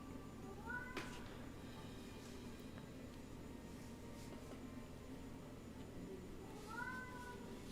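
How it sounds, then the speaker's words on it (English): A house cat meows twice, once early and once near the end, in short rising-falling cries that sound faint and somewhat distant over a low, steady room hum. "gonna let my cat in, and by the time I get back, the decision is going to be made."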